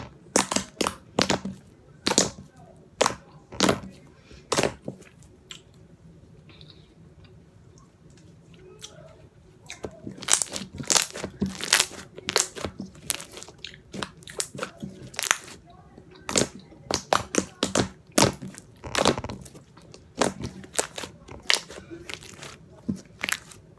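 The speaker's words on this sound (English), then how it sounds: "So yeah, that is that slime. We will do a 1 minute ASMR and then we will move on." Slime being squished and crunched for ASMR, sharp crackly crunches arriving in quick irregular bursts, close and crisp, with a quieter stretch of softer squishing in the middle before the crunching picks up again.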